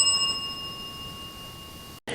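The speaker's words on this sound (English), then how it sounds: "Please feel free to tap the bell to let us know that you're here." A single tap on a bell at a haunted hotel rings out clearly, its bright tone sustaining and slowly fading for about two seconds before cutting off abruptly into a brief burst of noise.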